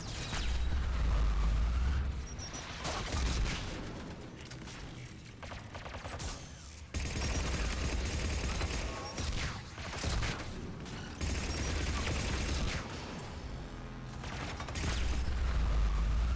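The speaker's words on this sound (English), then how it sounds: "I like how I can just tank missiles." Missiles explode and gunfire rattles in a video game, loud booming blasts and dense fusillades in waves with brief lulls between them, no voices.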